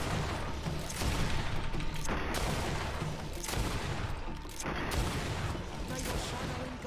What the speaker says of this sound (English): At least the gun is helping out, speeding this up.